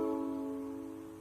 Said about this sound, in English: the blue string is a C sharp and it sounds like this